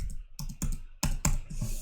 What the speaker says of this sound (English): I'm gonna start typing